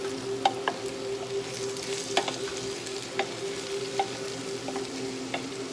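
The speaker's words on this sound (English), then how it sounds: "let the vegetables sit on top of the sausage jar for a little bit. I have it on a medium heat" Vegetables resting on sausage in a pan over medium heat give a steady, quiet frying sizzle with scattered small pops and crackles, no talking.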